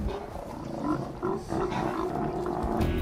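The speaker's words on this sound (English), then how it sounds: "This is a sea lion haul out" Sea lions at a haul out where they gather to sun themselves in Alaska, a dense chorus of deep, overlapping roars and growls, close and continuous, with no talking.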